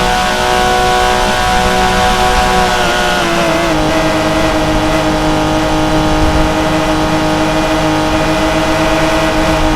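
A Porsche 911 GT3 RS engine in Driving School Simulator 2022 revs loud and steady, its tonal whine holding then shifting pitch midway as the car keeps accelerating at high speed.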